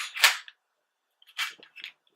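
Slide of a Smith & Wesson M&P 9 2.0 pistol being locked back in on a tabletop, a sharp metallic snap followed by a couple of smaller clicks, close and alone.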